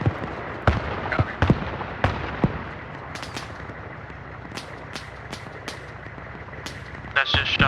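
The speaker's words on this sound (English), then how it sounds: "That's just shots coming over ahead from the southwest." Distant gunfire crackles in the ARMA military shooter, with sharp isolated shots scattered through the clip over a steady low background rumble, plus a burst of rapid shots near the end; a voice talks faintly in places.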